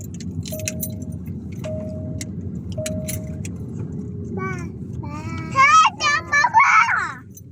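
Keys jangle in a few short metallic bursts near a car, heard under family chatter and a voice, followed by louder high-pitched squeals.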